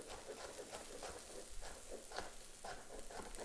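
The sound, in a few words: carrots frying in a pan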